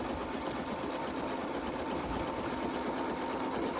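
An embroidery machine stitches a heart design, its needle driving in a fast, unbroken mechanical chatter, steady and close with no talking.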